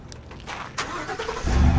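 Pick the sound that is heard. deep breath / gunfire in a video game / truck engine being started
truck engine being started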